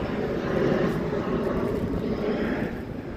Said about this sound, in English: wait till this plane go by.